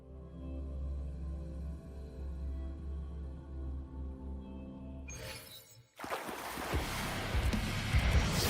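A boat in Wuthering Waves sets sail: a low steady drone and hum give way to a sudden rush of splashing water and wind that swells louder toward the end.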